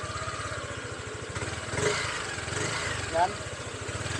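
Motorcycle idling with a steady rapid putter and a faint clicking rattle from a suspected magneto fault, engine rising briefly as it revs, while someone speaks over it.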